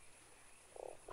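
A toad in the video game Fran Bow gives a single short croak over a quiet low hum, faint and brief, with a second croak just beginning at the end.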